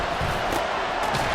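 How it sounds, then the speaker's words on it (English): The crowd at Arrowhead Stadium roars during a Bengals-Chiefs football game, a dense, steady wall of cheering noise with no breaks across the short stretch. "The Arrowhead crowd in full roar."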